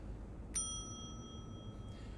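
A service bell in The Wolf Among Us rings once with a sharp metallic strike and a long, clear ringing decay, alone over a low steady background hum.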